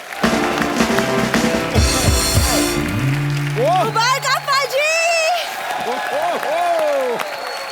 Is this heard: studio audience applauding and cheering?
yes